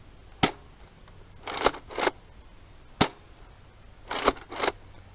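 A large turret-style Nerf blaster fires five level shots at an outdoor range, each a sharp near pop, spaced unevenly, with brief airy bursts in between.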